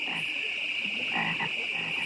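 Frogs in the Budweiser Frogs Super Bowl ad keep up a close, continuous chorus of croaks over a constant high-pitched drone of insects or night ambience.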